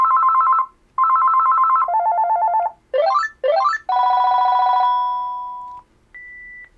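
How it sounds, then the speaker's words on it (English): Ringtone number 4 of a Panasonic KX-TG175C DECT 6.0 cordless phone plays as a clear electronic melody: repeated beeping tone bursts, quick rising chirps, then a sustained tone and a final soft beep. "So every time friends call, we will hear that tone number 4 which we selected"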